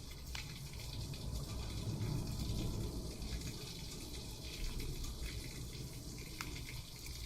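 Heavy rain pouring outside, a steady dense rushing wash of water heard continuously from indoors, fairly loud with no talk.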